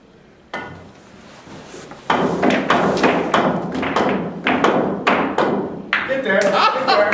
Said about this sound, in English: come over here and rapid fire the 6 balls